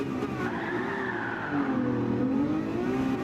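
Race car engine revving in a racing video game, a steady, loud motor whose pitch climbs, dips and climbs again over a few seconds, with a gritty layer of tire noise and wheel spin running underneath.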